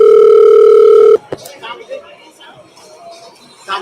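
A phone call placed over Bluetooth gives one loud, steady ring tone close by for about a second. It cuts off sharply and is followed by a click and faint background chatter.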